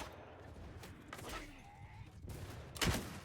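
Gunshots in Mount & Blade 2 Bannerlord, a few faint, scattered matchlock-style reports in a battle. The last crack near the end is the loudest.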